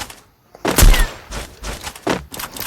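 Video game gunfire with weapon switching: a few loud, sharp shot bursts separated by brief pauses and quieter clicks.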